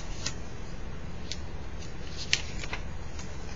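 Origami paper being folded in half for a modular origami ball, heard as several short, crisp rustles and creases over a low steady background, with one sharper crackle near the middle.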